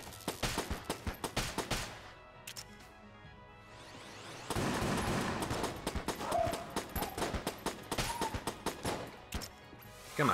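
Rapid bursts of enemy gunfire in the shooter game Enter The Gungeon, sharp repeated shots in quick rhythmic volleys with a brief lull midway, loud and close, no talking.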